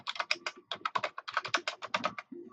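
Fast typing on a computer keyboard while entering notes in OneNote, with crisp, close keystrokes in quick irregular bursts and no talk.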